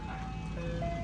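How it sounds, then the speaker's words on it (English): An ice cream truck passing, its tinkling chime melody ringing out steadily over a low road rumble, moderately close. "fucking ice cream truck"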